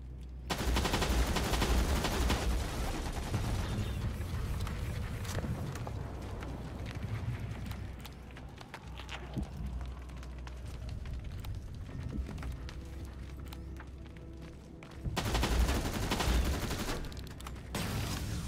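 Dense automatic gunfire from Terminator: Resistance rattles in long, sustained bursts, loud and close, easing slightly midway before surging again near the end.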